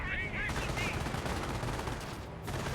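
Artillery barrage in Company of Heroes 1, a dense, continuous spray of game gunfire and distant blasts at moderate level, with faint whistling tones early on.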